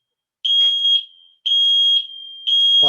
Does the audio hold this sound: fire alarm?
yes